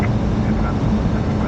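Steady broadband roar of an airliner touching down and rolling on the runway, loud and constant throughout, with a faint voice underneath.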